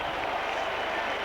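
A rugby league sevens crowd applauding a Leeds try in 1992, a dense, steady wash of clapping from a large stadium audience.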